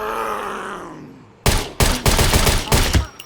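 Rapid gunfire in the survival game SCUM bursts in loud and close after a fading low drone, several sharp volleys stacking in quick irregular clusters.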